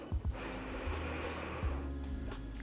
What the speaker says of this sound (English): I want you to take a deep breath in through your nose